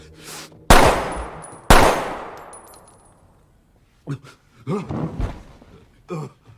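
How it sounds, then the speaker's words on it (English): Two loud, sharp gunshots ring out close together near the start of an action film scene, each trailing off in a long decaying reverb, followed by scattered thuds, clanks and gasps. "Who gains the upper hand until he is shot by Ovi with Gaspar's own gun."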